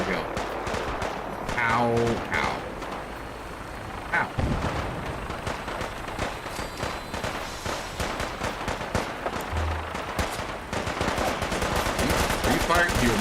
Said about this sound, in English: Are you firing? No, you're firing past me.